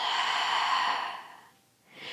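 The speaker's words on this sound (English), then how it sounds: "And breathe out." Long, soft breath out through the nose or mouth during a core-strengthening yoga session, one smooth airy exhale that fades, then the start of a faint new breath, close and alone.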